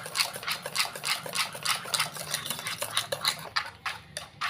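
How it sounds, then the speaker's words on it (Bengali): Flour and egg batter whisked vigorously in a bowl: steady, rapid rhythmic scraping and tapping of the whisk against the bowl, close and continuous, with no talk. "এবার আমি 10 মিনিটের মতো এটাকে ভালোভাবে ফেটিয়ে নেব।"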